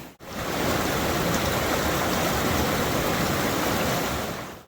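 Water surging through a long homemade sluicebox beside a river, a loud, steady rushing wash close by that holds constant from start to finish.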